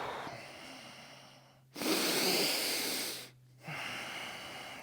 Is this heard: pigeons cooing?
no